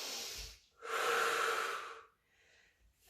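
Heavy breathing during a low-impact cardio workout: a short exhale, then a long, loud breath lasting about a second, then a fainter breath. No talking.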